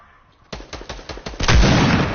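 Fortnite gunfire, a burst of about half a dozen rapid close shots followed by a louder, denser volley that swells and sustains to the end.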